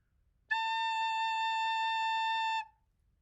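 A recorder sounds a single note A, fingered with two fingers and the thumb behind, held pure and steady for roughly two seconds against near silence before ending.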